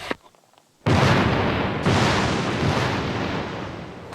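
Explosive blast clearing rock overburden above a fossil at an outdoor dig, a sudden loud boom after a brief quiet lead-in, followed by a long roaring rumble of falling debris that slowly fades.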